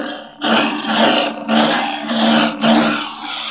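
A Carl's AZ Sabers Nomad Neopixel lightsaber with a Proffie sound board powers on with a loud, roaring hum that surges in three broad swells, close and alone.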